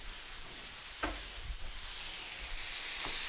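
A thin ribeye steak sizzles steadily on a Cuisinart Griddler GR-4N, a soft continuous hiss of frying with a few faint clicks and taps layered over it.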